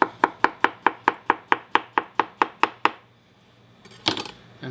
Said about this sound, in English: I'm going to slice the other half of the beet.